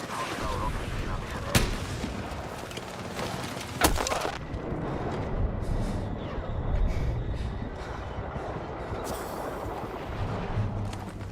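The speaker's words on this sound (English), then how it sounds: "I have to admit, the mortars were really annoying." In a Battlefield 6 match on Wake Island, mortar fire lands as a few sharp cracks and booms over constant battle noise and rumble, with a voice talking faintly underneath.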